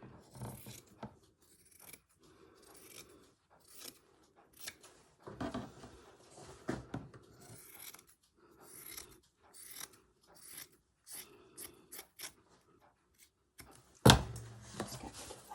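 Scissors snip through material while a vintage sewing box is upcycled, a series of close, dry cuts in irregular bursts with small handling noises between them and one sharper clack near the end.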